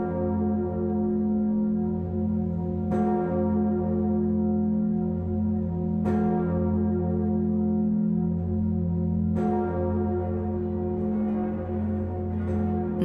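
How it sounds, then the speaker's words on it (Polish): Notre-Dame de Paris cathedral bell tolling in F sharp, three deep resonant strikes about three seconds apart over a sustained humming ring, loud and close with no voices. "dzięki dźwiękowi FIS brzmienie dzwonu uznaje się za jedno z najpiękniejszych w Europie"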